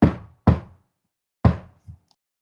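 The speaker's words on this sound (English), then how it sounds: "You knock 3 times, and in return, you hear" Three sharp knocks on a door during a tabletop fantasy game: two in quick succession, then a pause and a third, each close and distinct, with a faint soft thump after.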